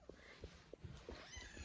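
A pet cat named Mr. Otis sounds off in a quiet room, with a run of five or six short, soft meow-like calls spaced evenly about every third of a second, close but faint.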